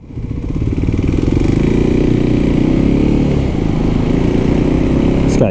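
A 2023 Kawasaki KLX300SM supermoto rides along loud and close, its single-cylinder engine holding a steady buzzing drone with slight pitch shifts as it cruises, and no talk over it.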